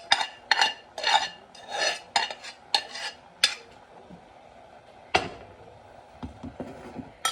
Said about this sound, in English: So I've tipped in half the mixture, and I'll mix that through.